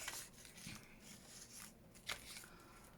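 Notebook paper torn by hand at one end, giving faint, close ripping and rustling in short bursts, with a sharper tear near the end.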